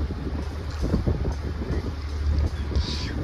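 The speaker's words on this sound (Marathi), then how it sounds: "ही पण एक बोट आहे." A boat motoring past on the Kerala backwaters, its low engine rumble steady and fairly close beneath wind buffeting the microphone, with some water noise.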